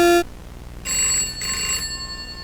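Inside the horror game The Mandela Catalogue, a telephone rings in two clear electronic trill bursts after a short tone, each ring lasting about half a second, loud and alone.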